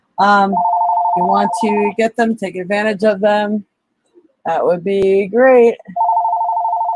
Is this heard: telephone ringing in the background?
yes